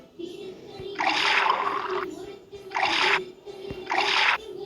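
Cartoonish liquid pours in a mobile color-sorting puzzle game, three bursts of splashy gurgling each lasting under a second, with a steady synth tone running underneath and no voices.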